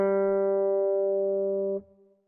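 A single open G string note is plucked on guitar and rings steadily and clean, then is muted sharply after almost two seconds, leaving a faint tail.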